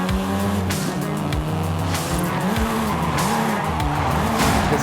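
Volkswagen Golf R in Forza Horizon 5 racing hard, engine revs rising and falling between gear changes while tires squeal and skid, loud and continuous.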